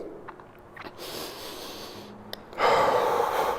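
Deep breaths drawn in and let out while holding a stretch, close and audible, with a few short sniffs and inhales before a louder, longer rushing exhale near the end.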